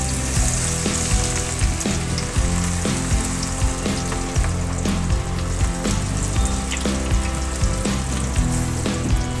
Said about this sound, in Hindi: चलिए अब हम इसको फ्राई कर लेते हैं, डीप फ्राई